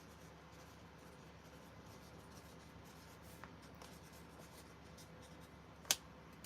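A pen writing on paper, soft, close scratching strokes in a quiet room, with one sharp tap near the end.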